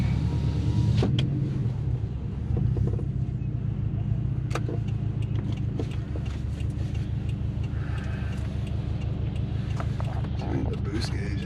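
A 2015 Subaru STI with a new clutch is out on a test drive, its engine and road rumble forming a steady, loud drone throughout while someone talks over it.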